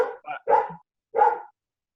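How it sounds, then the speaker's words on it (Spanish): A dog barks a few times in quick succession, then once more after a short pause, moderately close and clear against a quiet background. "Puede ser que hay un perro ladrando."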